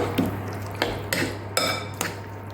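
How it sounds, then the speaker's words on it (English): Pumpkin pie dough being mixed in a bowl with ground cinnamon, heard as a handful of sharp utensil knocks and scrapes against the dish, spaced irregularly, close and fairly loud over a low steady hum. "Then we're just gonna mix it all up into a nice little dough."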